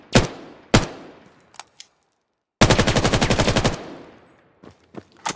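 Rifle gunfire in the VR shooter Vail VR: two sharp single shots, a few faint clicks, then a rapid full-auto burst of about a dozen rounds lasting over a second, followed by scattered quieter handling noises, loud and close.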